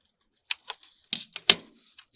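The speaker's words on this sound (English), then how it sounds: "I'm going to trim those off of there, actually." Scissors trimming small stitched pieces off 12x12 scrapbook paper, a series of short, crisp snips and clicks at close range with quiet gaps between them, with no talking.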